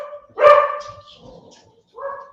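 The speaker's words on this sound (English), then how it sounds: "Shouty dogs." Dogs barking nearby, one loud bark followed by a quieter trailing yelp and then another short bark after a pause, with no talking.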